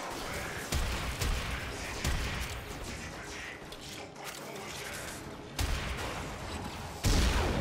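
Dense, continuous gunfire from a shooting battle in the video game Warframe, with rapid overlapping shots and blasts that roar loudly throughout and sharpen into heavier bursts near the end.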